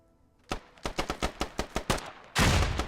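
Rapid gunfire in a multiplayer shooter match: a quick string of about nine sharp, evenly spaced shots, followed by a heavier sustained burst or blast at the end, close and loud with no talk.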